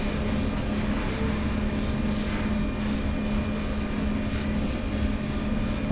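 A train rolls steadily on the Ruhr-Sieg Nord line in Train Sim World, a constant rumbling drone with a faint tonal whine, near and even throughout, with no talking.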